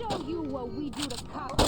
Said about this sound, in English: you can spam the semi-automatic pistols as fast as you can pull the trigger